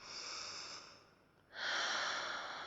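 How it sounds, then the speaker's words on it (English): Slow, deep breathing up close: a soft airy breath fades into a brief lull, then a fuller, louder breath follows, quiet and unhurried. "practice your deep breathing"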